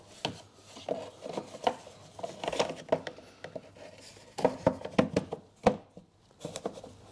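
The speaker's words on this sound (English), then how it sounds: "I'll get the battery cover back on" Plastic battery cover on a 2016 Ford Focus 1.5 TDCi being pressed and clicked back into place, giving a series of close, irregular knocks, scrapes and snaps with short pauses, no talking.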